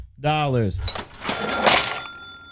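A cash register sound effect: a bright bell-like ding followed by the rattle and clatter of the drawer, loud and close, about two seconds long.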